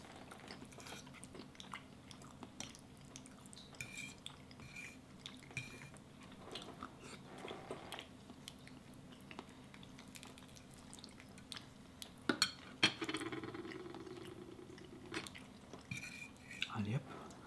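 Cutlery clinking against a plate while someone eats homemade lasagna, with soft chewing and scattered scrapes and taps, close and quiet in an ASMR setting, brief speech heard partway through.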